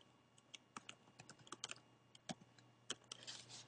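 Quiet, close typing on a computer keyboard during spreadsheet data entry in Excel, a loose run of individual key clicks with irregular gaps, a few louder taps and a brief quick burst near the end.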